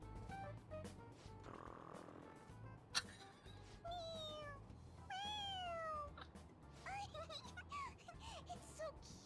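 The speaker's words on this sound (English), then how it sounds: "It meows when you press on its head." A stuffed toy cat gives several short electronic meows when its head is pressed, with rising and falling tones spread across a few seconds over background chatter and light train-like rumble.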